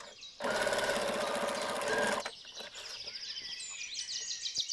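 A sewing machine runs a straight-stitch seam on a jacket in one close, steady whirring burst of under two seconds, then stops, leaving faint chirping birds in the background.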